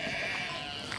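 A sheep bleats once, nearby, filling a short moment with a wavering nasal cry and no talk.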